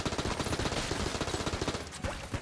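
Rapid bursts of gunfire from a weapon in the video game Enter the Gungeon, a dense rattling stream of shots firing steadily for the whole stretch, loud and close, with a brief lull near the end before one more volley.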